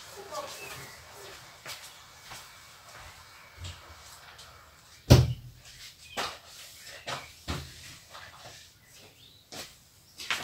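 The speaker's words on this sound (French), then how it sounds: "Attendez, je vais pousser la porte" A room door is pushed shut with a single sharp thud mid-clip, followed by a few lighter knocks and bumps in an indoor space.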